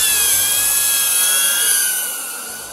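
A police drone hovers and moves slowly through a building's entryway and between aisles of shelves, its rotors giving a steady high-pitched whine with a shifting tone, loud and close throughout, gradually easing toward the end.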